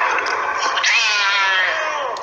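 A drawn-out, wavering cat meow in a video game rises and falls for about two seconds, sounding synthetic and slightly echoey, with no talking.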